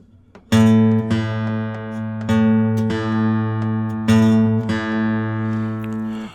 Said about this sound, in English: tune that B and E string together.